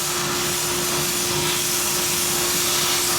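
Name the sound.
compressed air blowing along a cylinder head gasket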